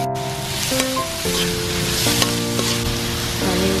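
Pechay (bok choy) sizzles and crackles while being stir-fried in a pan outdoors, a steady loud frying hiss with occasional clanks of the utensil against the pan.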